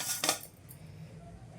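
Fried cumin and fenugreek seeds being tipped from a pan onto a plate, giving a few short metallic scrapes and clinks up close, then a quiet pause and one last sharp tap.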